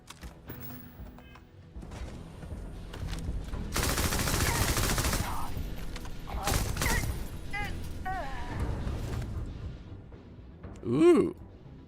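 Gunfire in the Starfield video game, heard as bursts of rapid shots, most dense in the middle stretch, mixed with other game effects and ending in a loud thump.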